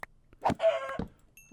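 A chicken in a Minecraft-style game clucks in a few short, clipped bursts with a longer squawking note between them, clear and close against a quiet background.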